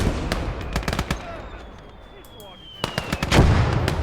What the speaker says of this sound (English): we've got a nice little firefight going